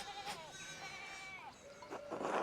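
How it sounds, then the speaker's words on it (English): Sheep bleat in Pentiment, a video game, with several wavering, drawn-out cries overlapping at close range. A louder, harsher bleat comes at the end, and no one speaks. "One of the fence rails fell and the sheep started up in it"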